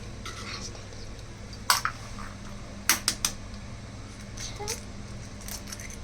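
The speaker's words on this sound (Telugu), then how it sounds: "గుడ్లు మనం పగలగొట్టి వేసుకోవాలి" Eggs are cracked into a bowl for an omelette: a few sharp, brittle taps and cracks come through a steady background hum, with a couple of quick knocks close together.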